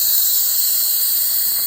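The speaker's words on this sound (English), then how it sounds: "That's a quick release. The pin is still up. And that's very hot steam." An Instant Pot cooking spaghetti vents very hot steam on quick release, a loud, continuous, close-up hiss that holds steady throughout.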